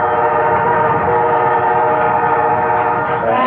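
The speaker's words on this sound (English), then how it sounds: "The trains coming through McPherson, Kansas only bring freight now." A freight train rolls through McPherson, Kansas, a steady, loud, close rumble with sustained horn tones, continuous and with no voices.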